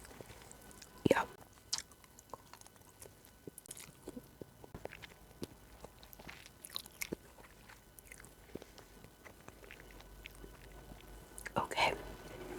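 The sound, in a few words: chewing while eating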